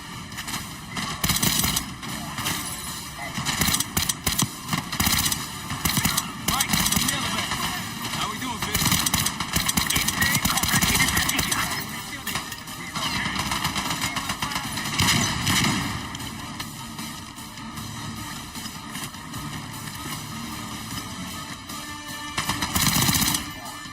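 Rapid automatic gunfire and scattered shots from a Call of Duty Black Ops 6 match, loud and continuous for the whole stretch, with bursts stacking over one another and a voice talking underneath.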